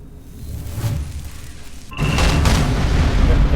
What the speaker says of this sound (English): See if I can detonate this lock.